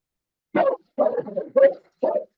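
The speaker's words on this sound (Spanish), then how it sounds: "estaba sacando a mi perro porque ha llegado mi hijo y ha hecho escándalo" A dog barks four times in short, close bursts, quite loud against near silence.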